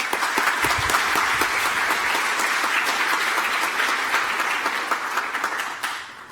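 Sustained audience applause at a JuliaCon 2019 conference session, a dense steady roar of many hands clapping that stays loud throughout and only begins to thin out in the final second.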